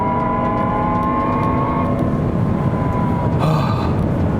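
Jaguar I-Pace electric car in performance mode, a steady broadband road and drive roar with a faint rising electric whine, continuous and close throughout, swelling slightly near the end.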